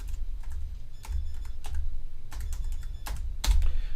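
Quick bursts of clicking keystrokes on a computer keyboard, close and crisp, with uneven pauses between short typed runs.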